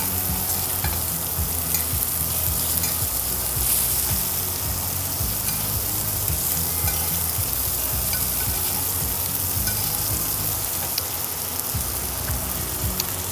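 Fish sizzles steadily in a hot pan as melting butter is spooned over it, a dense continuous crackle and hiss with occasional clinks, close and fairly loud throughout.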